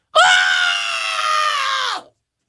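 A man lets out a single loud, sustained scream lasting about two seconds, imitating how he shrieked at $1 hot dogs, rising sharply and cutting off cleanly with silence around it.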